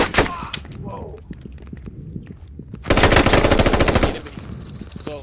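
Automatic gunfire in the military video game Squad, a loud sustained burst of rapid shots after scattered distant single shots and thumps, with a voice briefly heard.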